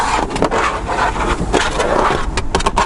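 Hard, bare plastic trim on the rear door of a Kia Niro Hybrid is rubbed by hand, making close, scratchy scraping strokes in an irregular rhythm.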